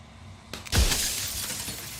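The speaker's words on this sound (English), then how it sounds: "A crack slides down the center of the mirror, splitting the image in the glass in two." A mirror cracks in the video game Slay the Princess: a sharp glassy crack with a deep thud, then a long bright shimmering shatter that rings out and fades slowly.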